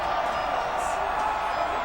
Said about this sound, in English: This crowd on its feet looking for a stop.